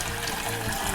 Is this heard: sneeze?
no